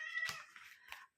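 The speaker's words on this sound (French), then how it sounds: "On est revenu avec mon chat qui miaulait." A pet cat meows up close, softly and briefly, with a couple of small vocal chirps after it, in a quiet room.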